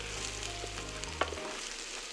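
Onions and garlic fry in a pan with a steady sizzle, and a brief clatter of stirring cuts in partway through. No voices are heard.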